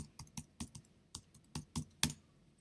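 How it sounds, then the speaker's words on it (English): Keystrokes on a computer keyboard, about a dozen crisp clicks in a quick, uneven run, close and clear with no talking. "and then I'm going to type in"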